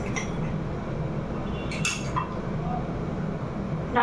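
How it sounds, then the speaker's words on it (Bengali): Dishes and utensils being washed in a home kitchen, with scattered clinks and clatters of cutlery against pots over running background noise, without talk. "কটা বাসন ছিল ধুয়ে নিলাম"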